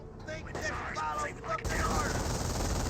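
Machine-gun bursts in Company of Heroes 1, a Sturmwagen firing on a rifleman squad, crackling rapid fire heard under a commentator's voice, then giving way to a louder, dense battle roar.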